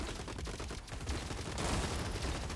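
Robots in the Gladiabots arena game trading shotgun fire, a dense continuous barrage of rapid bursts and crackling shots that fills the whole stretch with no pauses, loud and busy, with no voices over it.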